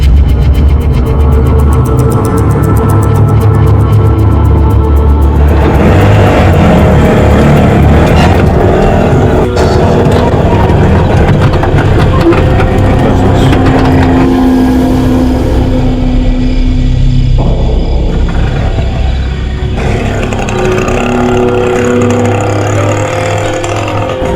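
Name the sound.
auto rickshaw driving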